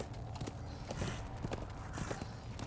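A horse's hooves clip-clopping in a steady trotting rhythm while the rider travels in the video game Darksiders 2, quick and fairly close but moderate in level, with no talk over them.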